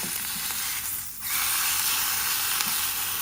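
A ham and cheese sandwich sizzling as it heats in a pan, a loud, steady frying hiss close up with a brief dip and faint clicks.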